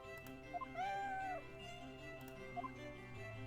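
Cat meow from a video game, the cat named Eve, a single rising and falling cry near the middle, fairly faint over a steady background music bed, with a couple of short chirps before and after.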